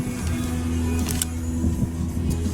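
A car drives along carrying a family with kids in the back, its steady low engine and road hum continuous and close, with a couple of faint light clicks from inside the cabin.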